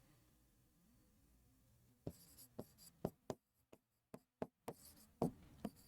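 A teacher writes letters on a board during a Hindi grammar class. After about two seconds of near silence come a quick run of crisp, close strokes and taps with brief gaps between them.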